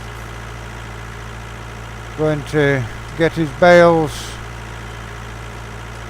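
A steady low engine drone from a Rakawa 65, a 65-horsepower tractor idling in Farming Simulator 19, runs constantly under a voice speaking briefly in the middle.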